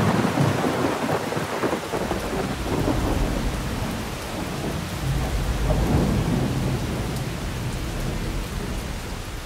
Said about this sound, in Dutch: ook bij ons stort een tropische regenbui neer.